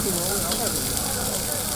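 A meat-filled snack frying in hot oil at a street food stall in Xi'an, China, giving a steady, loud, close sizzle that runs unbroken throughout.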